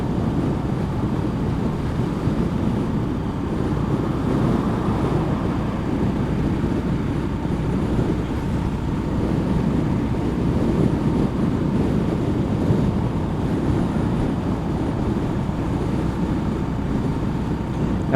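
A Honda GB350 motorcycle cruising just under 100 km/h downhill, a steady, loud roar of wind buffeting the microphone over a low engine drone, constant throughout with no voices.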